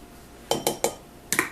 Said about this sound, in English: in a small bowl, we're going to mix 1 egg, 2/3 of a cup